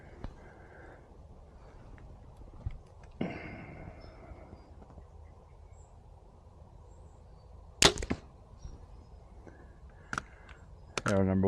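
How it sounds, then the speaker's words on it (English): Arrows fly from a bow at 20 yards into a deer target, with a sharp thwack near the eight-second mark and more snapping impacts toward the end, separated by long quiet stretches of faint outdoor hiss. "But let's take a few arrows at it"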